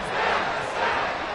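Stadium crowd at a Bills football game roars in a loud, sustained, dense wall of cheering that stays steady throughout, with no distinct voices standing out.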